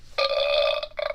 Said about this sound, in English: burping